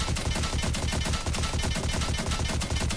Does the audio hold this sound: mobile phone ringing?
no